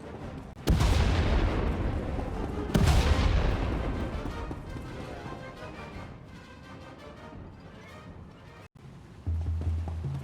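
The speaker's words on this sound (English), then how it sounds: "Prepare to fire weapon on my command." A heavy weapon discharges twice in deep booming blasts with long rumbling decays, followed by a sharp cutoff and a low hum resuming.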